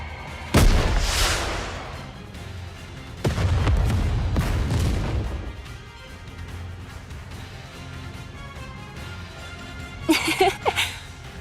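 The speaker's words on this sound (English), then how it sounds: "What an explosion! It's a work of art." A fiery explosion spell in a fantasy video game bursts loudly twice, each a booming roar that rolls and fades over a couple of seconds, followed by quieter rumbling and a short crackling flourish near the end.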